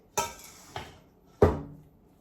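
Utensil clinking and scraping in a bowl while bread stuffing is tossed to coat it, three distinct knocks spaced over a couple of seconds, close and fairly quiet, with no talking.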